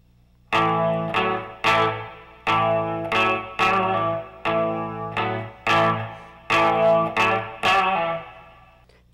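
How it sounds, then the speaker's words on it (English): Single electric guitar notes are picked over and over, about a dozen evenly spaced attacks, each bent on the fourth string at the fourth fret and let down again. The tone is chorused and slightly distorted, close and fairly loud, with no voices. "bend your fourth string on the fourth fret, coming back down to give it a little different sound"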